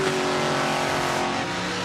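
A Race Masters chassis rear-engine rail dragster roars through a record run down a drag strip, its engine note loud, close and sustained, holding a steady high-pitched howl for the whole stretch with no voices.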